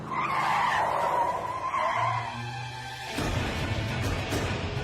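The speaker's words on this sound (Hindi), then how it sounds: "उसने गाड़ी की स्पीड बढ़ाई और अपनी मस्ती में ही वो गाड़ी चला रहा था" A car races down a road with a loud, close engine roar and a sharp tire squeal, then a harsher, rougher rumble as it keeps speeding, with no voices.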